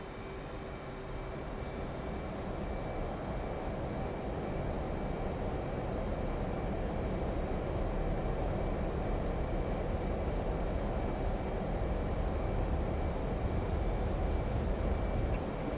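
Steady roar of an F/A-18C jet rolling for takeoff in the DCS flight simulator, a broad, constant engine rumble that builds slightly over its length with no talk.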